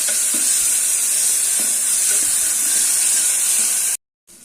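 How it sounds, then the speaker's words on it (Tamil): Ginger garlic paste sautéing with onions in a pan sends up a loud, continuous sizzling hiss, broken by a few soft stirring knocks, then stops abruptly. "அதை போட்டு பச்சை வாசனை போக வதக்கலாம்"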